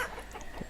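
Chickens cluck softly in a farm pasture in the village-building game Banished, a few short, quiet clucks over faint ambient background.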